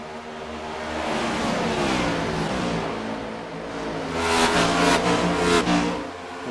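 Race cars in the iRacing sim with lap traffic ahead of the leaders: engines rise and fall as cars accelerate and pass, a loud sustained roar that swells again toward the end, no talk over it.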